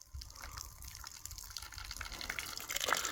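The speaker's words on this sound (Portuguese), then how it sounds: "Aí, pessoal, já começou a sair água" Water starts to run out of the end of a garden hose with a soft, steady gushing and trickling that grows a little louder toward the end. It sounds close and fairly quiet, with no talking.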